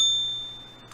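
One sharp, bright ding from a slightly out-of-tune bell rings out alone and decays quickly over about a second.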